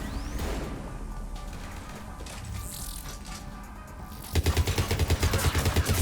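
Gunfire in the video game Mass Effect 3: mechanical clanks and busy game noise, then from about four seconds a loud rapid burst of repeated shots that continues to the end.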